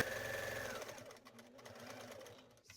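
A sewing machine stitches a pumpkin trick-or-treat bag panel, running steadily with a rapid mechanical whir, then slowing into a softer, uneven chatter.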